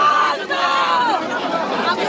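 A dense crowd of protesters near the chief minister's residence roars and shouts together, a loud, continuous close-up din of many voices.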